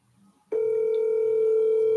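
A FaceTime phone call rings out unanswered, a steady electronic tone starting abruptly after a brief quiet moment and holding unbroken and clear to the end.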